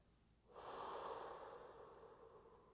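A single audible exhale during a yoga flow, a soft, airy rush of breath close to the ear that swells and then trails off slowly, with no voice over it.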